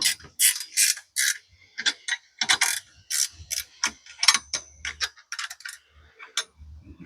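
Ratchet wrench clicking in repeated short bursts as it tightens the machined aluminum uprights of a chainsaw mill, close and crisp, with brief pauses between strokes and no talking.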